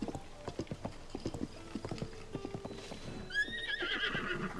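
A horse in Tears of the Kingdom clops along with a steady run of hoofbeats, then lets out a loud, wavering neigh near the end.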